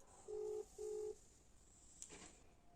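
Two steady keypad tones on a telephone as a number is dialed, each lasting about a third of a second, followed by a brief faint click; no talking.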